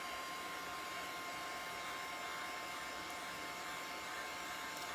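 A hair dryer blowing on glue on a Dollar Tree craft pumpkin wrapped with jewelry wire, a constant close whooshing hum running unbroken with no speech.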